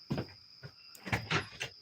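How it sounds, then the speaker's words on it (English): A door is opened indoors at a house with a few close, muffled knocks and a sliding rattle, short uneven bumps over a steady faint electronic hum. "Let me get this door here."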